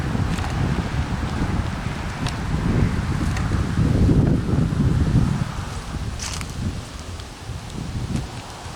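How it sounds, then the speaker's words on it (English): Steady outdoor wind buffets the microphone at a cold garden planting site, a continuous rough rumble that surges and eases, with occasional faint rustles and knocks over it. "over tonight the wind's supposed to die down"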